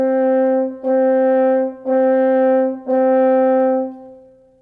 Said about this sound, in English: On the note G, it will sound like this.